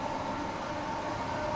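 A Class 465 electric train runs in Train Sim World 3, a steady rolling rumble with a sustained motor whine, even and continuous for the whole short stretch.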